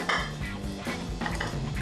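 A Bedlington Terrier's metal food bowls are collected and knocked together, bright clinks and clatters repeating over a steady background bustle, close and fairly loud.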